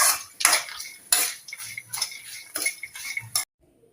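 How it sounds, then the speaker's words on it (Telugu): A utensil scrapes and clinks steadily against a metal bowl while spice powder is stirred into puffed rice (murmuralu) for a snack, in repeated close bursts before stopping abruptly, with no talking. "మళ్ళీ ఇప్పుడు మంచిగా మిక్స్ చేస్తున్నాను"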